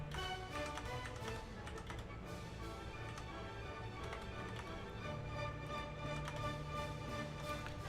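Rapid mouse clicks and soft keyboard taps while placing pieces in a Fallout 4 settlement build at Minutemen Castle, steady and close over continuous game music and ambience.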